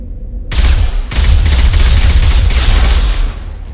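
Loud, sustained automatic gunfire from an assault rifle in the Mass Effect video game, starting abruptly after a brief quiet moment and continuing in dense bursts to the end.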